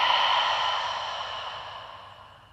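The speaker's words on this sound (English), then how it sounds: "And then open your mouth, exhale, let it all the way out." A deep, slow exhale through an open mouth during a guided yoga breathing exercise, a steady breathy rush that starts strong and fades gradually over a couple of seconds, close to the microphone with no talking.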